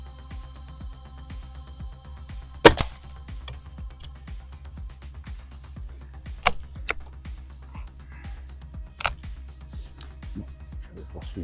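An Umarex Emerge 4.5mm air rifle fires Umarex Cobra 0.56 gr pellets at a 16 m target: three short, sharp reports a few seconds apart, over a soft steady ticking background with occasional quiet talk.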